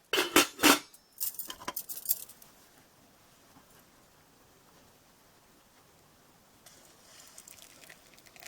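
A metal lid goes onto a pot of cardamom chai with a burst of clattering metallic clanks, followed by a long, quiet, low hiss.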